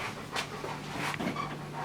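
A dog pants in short, steady breaths at close range in a home kitchen, the huffs rising and falling at a fairly even rhythm over a low hum, with no voices.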